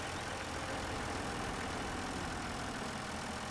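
Steady, even drone of a tractor engine idling in Farming Simulator 17, low and continuous with a rough rumble, no talk and no change in pace throughout.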